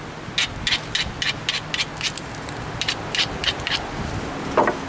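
Edge of a flint preform ground during knapping, with repeated brisk scraping strokes in clusters, close up and moderately loud, with no voices.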